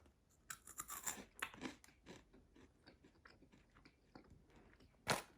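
Crunchy bites and chewing of a freeze-dried fish fillet, close and dry, several crisp crunches in the first two seconds then softer chewing and a final loud crunch.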